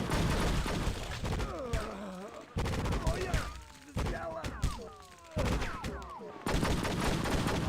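Gunfire from True Crime: Streets of LA comes in repeated rapid bursts, loud and close. Each burst breaks off abruptly and leaves short gaps between.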